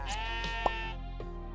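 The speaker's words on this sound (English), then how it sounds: "we have plenty of sheep in to the east" A sheep bleats in the pixel-art survival game Necesse, a short wavering cry with a brief click in the middle, over steady game background sound.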